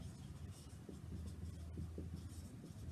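Chalk or marker scratching on a classroom board while a geometry proof is written out, a steady faint scraping with short stroke-like bursts and no talk over it.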